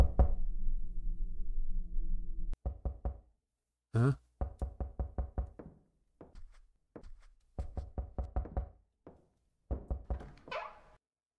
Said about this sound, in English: I heard knocking.